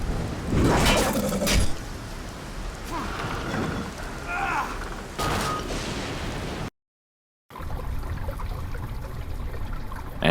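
Steady trickling and dripping water echoes through sewers in the 2008 video game Dark Sector, a continuous wet wash with brief louder splashes, running under intermittent talk and cut by a short silent gap.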